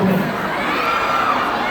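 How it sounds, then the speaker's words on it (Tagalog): A lively crowd shouts and cheers together at an event in Cebu, with loud, overlapping voices and children's yells filling the short burst without pause. "Bakit may sumisigaw ng kiss?"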